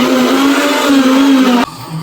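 A car engine revs loudly with a steady high drone and rising pitch close by, then cuts off abruptly near the end, leaving quieter background noise.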